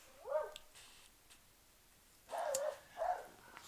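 A dog barks in the background, a few sharp yelps and barks spaced out over a few seconds, moderately distant with quiet room tone between them.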